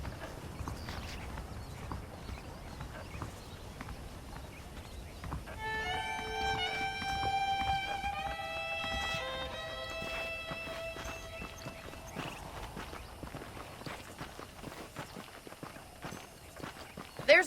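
Horse hooves clip-clop at a steady walking rhythm in the Western video game Red Dead Redemption, steady throughout, with a short melodic music cue rising over them midway.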